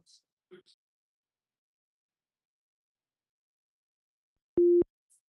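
After a few faint clicks and near silence, a single short, loud telephone busy-signal tone sounds once the caller hangs up, clean and steady.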